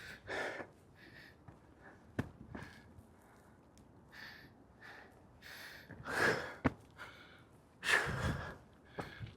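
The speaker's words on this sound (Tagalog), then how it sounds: "Hinihingal na ako." Heavy, labored breathing comes from a hiker climbing a steep trail on Inwangsan Mountain in South Korea. Quiet panting runs throughout, with a few louder gasping exhales and faint footsteps.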